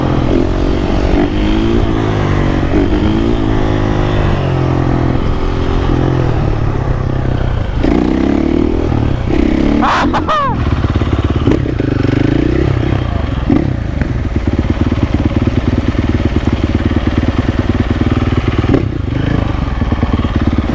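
Supermoto motorcycles riding in a rainstorm in the countryside, engines droning and revving steadily and loudly throughout, with rattling clatter and wind noise over the top.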